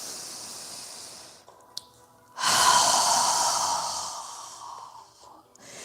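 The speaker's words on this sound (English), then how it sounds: "Take a deep breath." A single long, deep breath during a yoga session, a soft inhale followed by a sustained, airy exhale through the mouth, close and fairly loud, with no talking.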